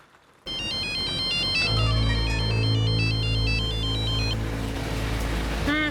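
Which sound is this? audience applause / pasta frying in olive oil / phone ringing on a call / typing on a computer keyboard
phone ringing on a call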